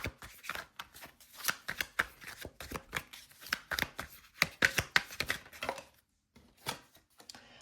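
Tarot cards shuffled and drawn from a deck: a long run of quick papery riffling and snapping bursts, close and fairly loud, with a short pause before a few final card flicks.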